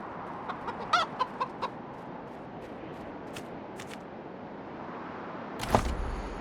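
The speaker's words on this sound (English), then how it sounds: "How do I get rid of you, chicken?" A chicken in the video game Wasteland 3 gives a short run of clucks in quick succession over a steady ambient background, followed by a louder burst near the end.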